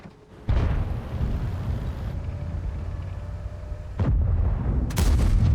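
In the World of Tanks game, booming cannon shots and heavy impacts of a tank shell bouncing off armor sound over a low rumbling engine drone, with sharp blasts near the start, middle and end.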